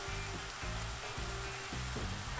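Omni vegan pork frying in a pan, a constant close sizzle with soft stirring scrapes and an underlying low hum.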